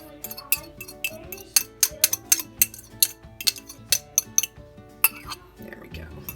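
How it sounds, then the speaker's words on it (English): Eggs are whisked in a bowl for muffin batter, the utensil clinking sharply against the bowl in a quick, uneven run of close, bright taps before it stops. "I mix the eggs up a little bit and then throw this in"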